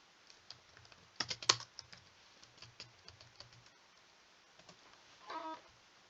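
Computer keyboard typing into Notepad, a quick irregular run of light key clicks with a denser burst in the middle and a short flurry near the end, close and fairly quiet, no talking.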